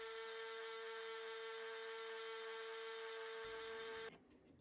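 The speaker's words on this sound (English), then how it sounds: "I'm going to use the sander, first of all to sand all the sides flat" Electric sander running on wooden sides, a steady high-pitched motor whine held for about four seconds before cutting off abruptly, with no talk.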